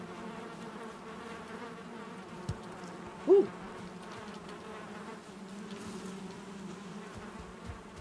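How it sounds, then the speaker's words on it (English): Bees buzzing at hives in the video game Valheim, a steady low droning hum throughout, with a brief vocal exclamation over it partway through. "Check them bees. Bees are happy."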